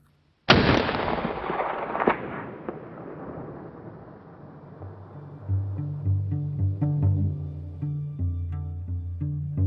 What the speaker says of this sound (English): zeroing a rifle is about more just putting a hole in the center of a paper